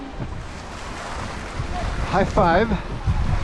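River water rushes steadily past prayer wheels spun by the current on a Nepal trek, a broad windy roar that fills the background while people talk and call out over it.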